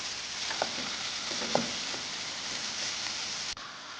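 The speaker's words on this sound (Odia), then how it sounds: "କଞ୍ଚା ଲଙ୍କାକୁ ଟିକେ ଭଲସେ କଷିବା।" Tomato, green peas, onion and green chili sautéing in a pan for anda bhurji, giving a soft, steady sizzle with a few faint stirring knocks and no talking.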